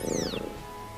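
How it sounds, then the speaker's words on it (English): Sprigatito, the Grass Cat Pokemon from Pokemon Scarlet and Violet, gives a short, bright cat-like cry that sweeps downward and fades within half a second over a steady game music bed. "Sprigatito, the Grass Cat Pokemon."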